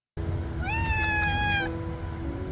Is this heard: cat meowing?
yes